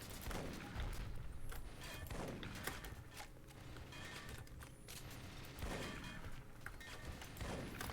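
Shotgun blasts in the first-person shooter E.Y.E. Divine Cybermancy boom repeatedly amid mechanical clanks and thuds, a dense, loud run of game gunfire with no talk.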